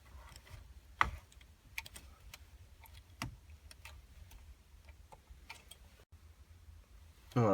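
Power cables being pulled from a Ford Fiesta car radio, a few faint plastic clicks and small knocks, two sharper snaps of the connectors releasing, quiet and close.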